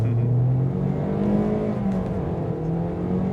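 A 2019 Toyota Corolla accelerating hard, its engine droning steadily and loudly from inside the cabin, with a slowly rising pitch and no talk.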